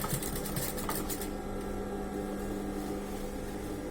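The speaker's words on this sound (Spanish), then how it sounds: "Y voy a coser a 1 centímetro" A sewing machine stitches a trouser side seam, running as a steady mechanical whir with a rapid rattle of the needle, loudest in the opening second and then settling into an even, continuous hum.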